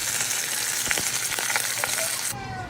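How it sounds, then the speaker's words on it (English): A piece of New York steak sizzles in a small 8-inch carbon steel wok with avocado oil, a loud, steady frying hiss with crackles and pops close up that drops away near the end. "So I've got a piece of New York steak. I'm going to grill it right in the wok."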